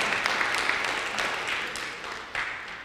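A church congregation applauds together, a dense sustained clapping that gradually tapers off, then swells briefly once more near the end.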